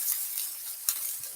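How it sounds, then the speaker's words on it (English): Steak frying in a pan beside a reducing mushroom sauce, a soft continuous sizzle with faint crackles and one brief sharper pop, heard on its own. "I'm cooking the steak, and I'm going to take the steak out soon"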